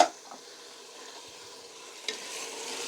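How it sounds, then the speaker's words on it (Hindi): Kidney beans frying in a pan over a medium flame, with a soft continuous sizzle and occasional stirring scrapes; a brief clatter near the start and a louder bump around two seconds, with no talking. "अभी आपको मीडियम फ्लेम पे इसको हमने 2 मिनट तक इसको हमने फ्राई करना है ढक्कन दे के"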